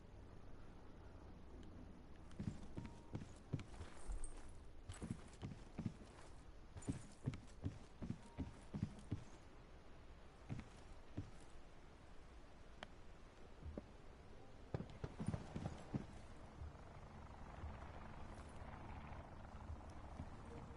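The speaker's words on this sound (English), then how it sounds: "It's really hard to tell if your footsteps are making that noise or someone else." Footsteps on a rooftop in the Call of Duty battle royale game, sounding as quiet, irregular clusters of thuds and taps that come and go over a low background hum.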